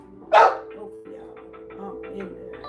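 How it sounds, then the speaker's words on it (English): A dog gives one loud close bark, followed by faint background noise and a quiet voice. "Excuse my dog, y'all."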